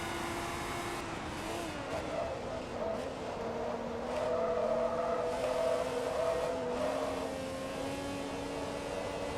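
Mercedes race car in Forza Motorsport 2, a continuous engine whine rising and falling through gear changes, steady and close throughout.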